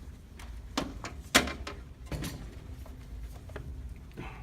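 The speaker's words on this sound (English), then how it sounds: "So just open up the back door." Back door of an AMC-20 unit being opened, a few sharp clicks and a latch-like knock followed by softer handling rattles, close by and quiet with no talk.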